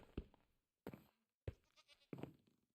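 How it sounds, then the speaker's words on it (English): Several short bleats from a Minecraft goat, four separate calls spaced across a few seconds, fairly faint with quiet gaps between them. "Oh, I hear a goat."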